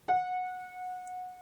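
A single sustained piano F note struck once, ringing clearly and slowly fading, alone in a quiet room.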